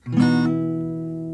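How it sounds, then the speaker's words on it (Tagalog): A single guitar note rings out clearly, then sustains and slowly fades; a hammered-on note at the third fret of the second string, heard alone. "ipang-hammer nyo dito sa second string ng third fret"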